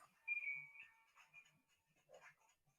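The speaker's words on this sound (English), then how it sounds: "someone's left a phone in there" A phone ringtone chirps out in a short melodic burst, fairly faint and a little distant, followed by a few brief softer tones in a quiet room.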